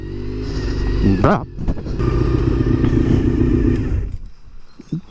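A road motorcycle engine droning loudly while riding, holding a steady rev before easing off near the end, with a short spoken exclamation over it.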